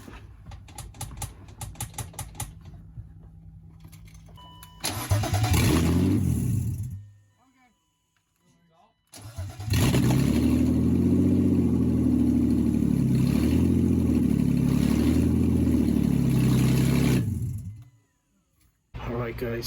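A BMW E36 engine running with no exhaust fitted, loud and raw: a burst of roaring revs, a drop to near silence, then a long sustained blare before it cuts off, with brief talking at the start.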